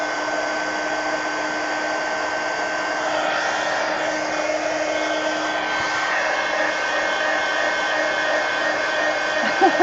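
A hair dryer drones steadily at close range, drying paint on a mixed media fantasy painting, its broadband whir holding even for the whole stretch with slight shifts as it is moved about.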